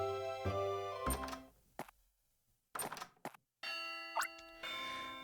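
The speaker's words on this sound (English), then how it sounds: "Blobber, that's the bell." A school bell in the video game Pokemon Ranger Shadows of Almia rings with sustained tonal chimes, broken by a few short game sound effects and gaps of near silence before the ringing tone returns.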